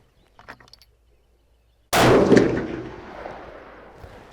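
One loud, close rifle shot from a Masterpiece Arms rifle at an outdoor range, a sharp crack followed by a long rolling decay, preceded by faint handling noises.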